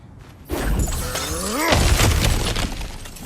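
A cracked wall smashed apart in God of War Ragnarok: a sudden loud crash at the half-second mark bursts into shattering debris and crumbling rubble that keeps tumbling and rattling to the end, with a brief voiced grunt mid-way.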